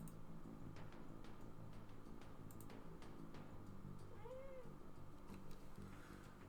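A pet cat meows faintly during an indoor board game, a single short call under a low household hum with occasional light ticks and taps.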